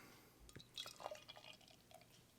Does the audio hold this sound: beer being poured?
yes